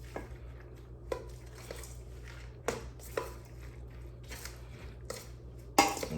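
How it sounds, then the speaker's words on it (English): A spoon stirs food in a cooking pot, giving soft scraping and squishing with a few sharp clinks against the metal, close and moderately loud, with no voices. "I'm gonna actually use my spoon here and get us a stir"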